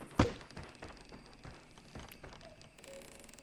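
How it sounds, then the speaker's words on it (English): A wood knock heard as ambience in a Bigfoot video game: one sharp hollow knock up front followed by a few softer taps and thuds, faint and distant-sounding, with no talking. "I heard a wood knock"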